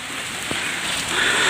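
Steady rain pouring on and around a leaning, nearly collapsing house, a dense close hiss of falling water with faint drips.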